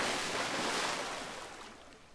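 Water washing and surging in the submarine ending of 999, a broad rushing swell that slowly fades over about two seconds with no one speaking.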